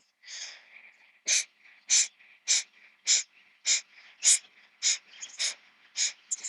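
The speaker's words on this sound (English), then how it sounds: "So it's called Kapalabhati, the breath of fire." Kapalabhati breath of fire in a morning yoga session: a steady series of about a dozen sharp, forceful nasal exhalations at an even pumping beat, close and crisp, with faint airy breathing between bursts and no talking.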